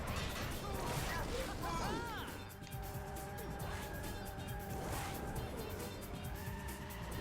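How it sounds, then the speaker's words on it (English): Cars on a downtown Shibuya race track in Sonic & All-Stars Racing Transformed roar past with crashes and swooshing effects over continuous engine noise and music, fairly close and loud throughout. "There's also cars on the track, which we have to be aware of, because you can actually hit them"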